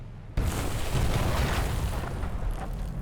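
Naval gun shells from two guns slam into a coastal target in Victory at Sea Pacific, a sudden loud boom that swells into a sustained rumbling explosion and slowly fades.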